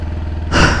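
A motorcycle engine turning over with a low pulsing rhythm, then catching and roaring louder near the end of a very short moment, close and alone.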